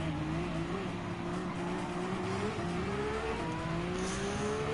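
Prototype race car in Gran Turismo 7 holds a steady high engine drone while its tires squeal through a corner, loud and continuous with no talking.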